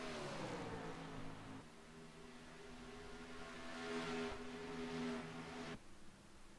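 Race trucks in a USRC Truck Series event at Atlanta running side by side, a steady droning engine roar with shifting pitch as they pass, fairly distant and without any talking.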